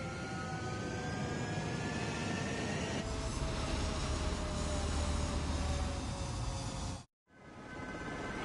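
A jet fighter takes off in the video game Ace Combat 7, a faint, steady engine roar and whine building along the runway, then cutting out briefly before resuming.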